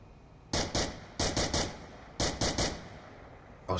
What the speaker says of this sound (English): Shots coming out from Zach Fontaine